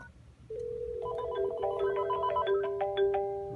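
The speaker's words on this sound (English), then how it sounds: "It rings over there." Telephone ringing on a business phone line, a steady electronic ring tone with harmonic warbling, close and clear over a low background hum, no talk.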